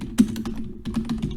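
A job title is typed on a computer keyboard while editing a PowerPoint slide master, a close, quick run of light key clicks in two short bursts split by a brief pause.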